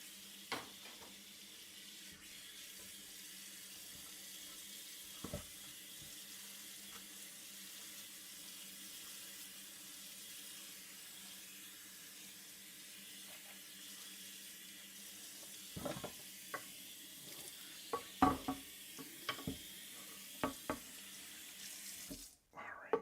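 Steady running water from a kitchen sink tap rinses dishes coated in potato starch and ham juices, a continuous close wash punctuated by a few clinks and knocks of dishware near the end.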